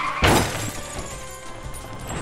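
A sudden crashing impact from the Pokemon Fire Red video game as a jump kick misses, a sharp burst followed by a lingering noisy game soundscape.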